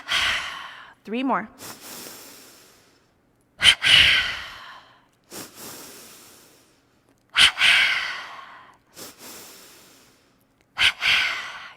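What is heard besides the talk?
energizing breaths, double inhale through nostrils, double exhale through mouth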